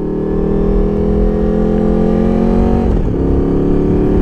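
Honda VFR750 motorcycle engine idling steadily nearby, a continuous loud drone with a brief dip in pitch, as if a small blip of the throttle, before settling back to a steady idle.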